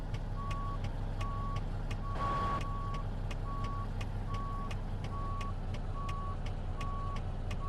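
A K100 truck reversing toward a trailer bay in the video game American Truck Simulator, with evenly spaced reversing beeps repeating about every 0.6 seconds over a steady engine drone.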